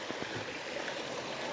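Stream water rushes steadily at the Lil Falls swimming spot on the Greenbelt trail in Magalia, a close, continuous broadband wash with no voices.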